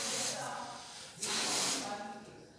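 Pressurized air hissing steadily out of an opened balloon, a broad continuous rush that swells again midway and lingers, close by and fairly loud.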